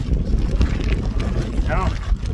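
Gusty wind buffeting a cyclist on a bike route, a low continuous rumble with swells, close and steady.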